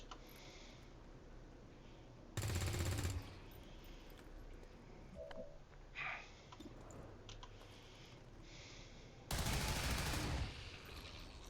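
Weapons fire in XCOM 2 in two loud, dense bursts of rapid shots separated by several seconds of quieter clicks and small game effects.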